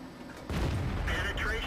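An M56 Scorpion tank firing a HEAT shell in a tank battle video game, a sudden booming cannon shot that erupts then lingers as a rumbling roar, loud and close, with a voice partly overlapping.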